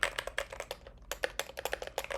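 Split mechanical keyboard with Glorious Panda tactile switches, typed on in a fast, steady stream of close, clacky keystrokes with a brief pause in the middle.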